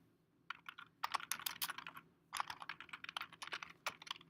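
Keystrokes on a computer keyboard as a chart title is typed, coming in two dense bursts of quick, close tapping separated by a short pause, with no voices.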